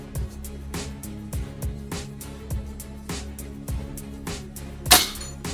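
Airforce Condor SS .22 air rifle firing at a 47-yard target outdoors in 26° winter cold: a single sharp crack near the end, over a steady low background hum with periodic faint thumps.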